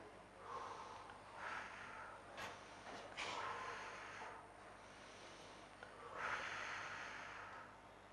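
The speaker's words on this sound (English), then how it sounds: "Now take 3 deep breaths and exhale." Slow deep breaths, several long audible inhales and exhales in a quiet room, soft and close, evenly paced.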